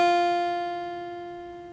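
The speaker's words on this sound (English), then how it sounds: "give you a nice clear F sound." A single guitar F note, played on the low E string at the first fret, rings out clear and steady, then slowly fades, with no talking over it.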